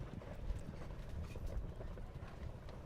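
Hooves of a show jumping horse during an outdoor Grand Prix round: a steady, muffled clip-clop of strides over dull ground rumble, with no talk.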